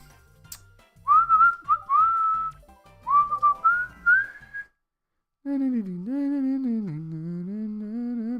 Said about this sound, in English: I like to whistle in real life